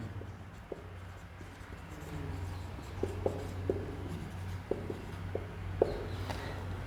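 A teacher writes on a board during a class-12 physics lesson on static electricity, with quiet scratchy strokes and sharp little taps scattered unevenly across a calm room.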